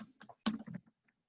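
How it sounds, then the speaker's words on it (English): Quick bursts of keystrokes on a computer keyboard as a name is typed, clustered clicks close up with short pauses between, no voices. "So you would use a keyboard to type in your name"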